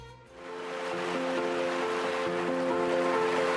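Swift-flowing water of the Mondo River rushes in a steady, loud broadband wash, rising quickly in the first second and then holding constant.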